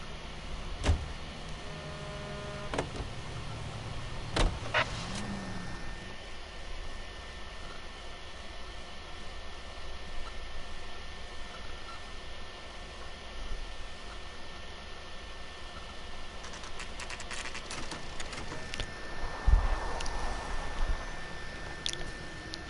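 A car driving in the video game L.A. Noire gives a steady engine hum with a few sharp clunks and knocks along the way, with no talking.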